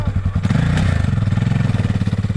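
A KTM motorcycle engine, just reassembled after repairs in the South Australian desert, runs loud and close with a fast, even pulsing idle and a brief rev near the start.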